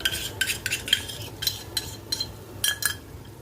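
Curd being stirred into a thick biryani gravy of tomato puree and garam masala, with a spoon scraping the pot in a quick series of close, crisp strokes and short pauses between them.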